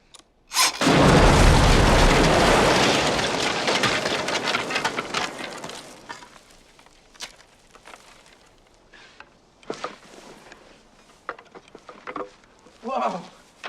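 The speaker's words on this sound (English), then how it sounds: "I think you woke up the dead with that blast" An explosive blast goes off in a tunnel, a sudden loud boom followed by several seconds of roaring, rumbling debris that slowly fades, then scattered pattering and small clattering falls.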